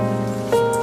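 Steady rain on a surface as a sound effect, a dense continuous patter with a sustained tonal layer beneath, loud and close.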